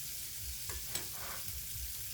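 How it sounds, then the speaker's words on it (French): French shallots sautéing in butter in a pan give a soft, steady sizzle with a few light stirring scrapes, quiet and close, with no talking. "on va faire revenir les échalotes françaises en premier"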